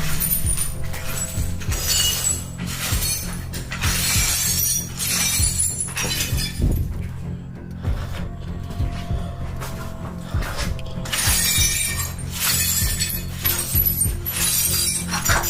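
Glass shatters and crashes loudly and continuously, with dense bursts of breaking and clinking shards filling the whole stretch and no clear talking.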